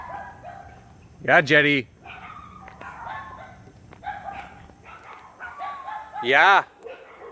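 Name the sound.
dogs barking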